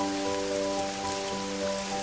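Rain falls steadily on a surface in a soft, continuous patter, with a sustained tonal hum running underneath throughout.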